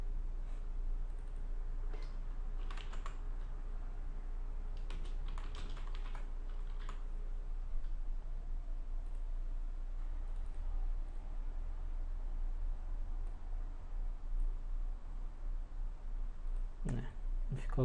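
Computer keyboard typing in short bursts of clicky keystrokes, fairly quiet and close, with pauses between runs and a low steady hum beneath.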